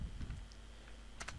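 Quick clicks of fingers typing on a computer keyboard, a short close burst of keystrokes with a brief pause and a couple of final taps, no voices.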